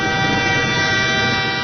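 A train horn blares steadily and loudly throughout, a sustained multi-tone blast with rumbling engine noise underneath, staged as a sound effect in a Spanish radio horror drama.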